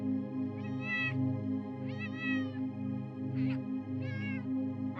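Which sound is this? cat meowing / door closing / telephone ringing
cat meowing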